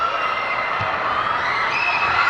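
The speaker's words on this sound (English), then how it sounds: "Crowd loving it." A volleyball crowd at a PSL Grand Prix match between Generika and Petron cheers and shouts steadily, a loud continuous roar of many voices filling the arena.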